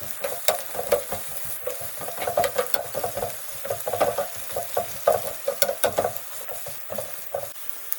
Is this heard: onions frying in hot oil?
yes